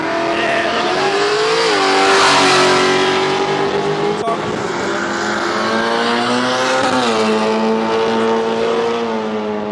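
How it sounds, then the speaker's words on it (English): A tough Holden station wagon revs hard and launches in a drag race, its engine roaring loud and close with rising, shifting pitch sweeps as it accelerates away. "Will we see the wheels up launch again this time from this tough Holden station wagon?"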